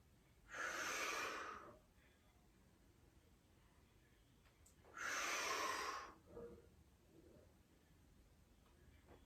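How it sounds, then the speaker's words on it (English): Two long, breathy exhalations during a TRX suspension workout, close and fairly loud, each lasting about a second with quiet pauses between and a faint short breath after the second. "Exhale, pull in. Inhale, let yourself back out."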